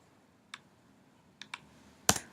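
Computer keyboard keystrokes and mouse clicks while entering numbers into a spreadsheet: a few soft, isolated taps followed by a louder, sharper click near the end, with no voices.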